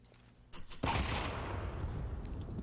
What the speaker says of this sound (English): That's so much damage from the grenade.